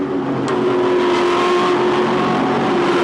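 A race car engine roars loudly and steadily, holding a high strained pitch through the whole stretch, with the whine of other cars blending underneath during a touring car race.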